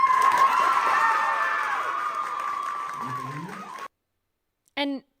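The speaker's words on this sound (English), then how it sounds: "it's met with cheers from people in the crowd" Crowd at a student government meeting cheering and clapping loudly after a vote denying Turning Point USA recognition, a dense roar with shouts that fades and cuts off, followed by a brief voice.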